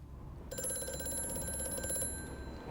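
A telephone rings in a dark horror video game, a sustained electronic bell tone starting abruptly after a short quiet lead-in and holding steady, loud and alone with no voices.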